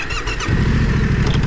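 A motorcycle out on a cruise, its engine rumbling loud and close, with a rising note as it pulls away under steady wind noise.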